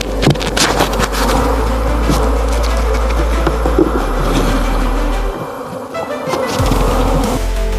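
Honey bees swarm during honey extraction, a loud, dense buzzing drone close up that goes on without a break.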